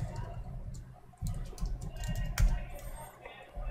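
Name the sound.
typing on a computer keyboard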